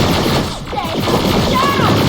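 Rapid heavy gunfire from a firefight in the video game Terminator: Resistance, dense overlapping shots and bursts with whining energy-weapon tones, loud and continuous.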